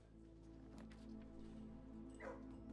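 A dog whimpers and yips softly in the video game Blue Prince, faint against a constant ambient music bed, with one slightly louder yelp near the end.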